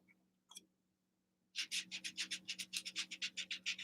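A domed brush rubs across a journal bag in a quick run of rhythmic scratchy strokes, close and fairly loud, after a brief tap and a short quiet pause.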